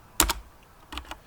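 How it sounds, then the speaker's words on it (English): Arrow keys on a computer keyboard tapped in two quick pairs of clicks, close and crisp against a quiet room. "Then you can use the arrow keys on your keyboard to navigate."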